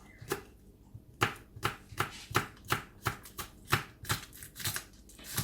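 A knife chopping spring onion on a cutting board, a steady run of about a dozen crisp close taps.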